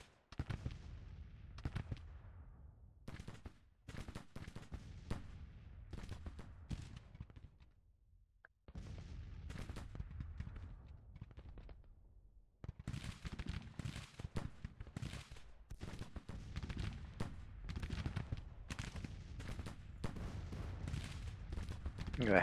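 Civil War troops in Grand Tactician firing rifles and cannon, a stream of distant cracks and booms in irregular volleys with a short lull midway, then heavier sustained fire.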